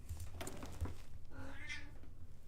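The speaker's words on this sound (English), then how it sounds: "Can you hear my cat? He's talking in the background." A pet cat meowing in the background of a home, with a single drawn-out, rising meow that is fairly faint and set against low room noise.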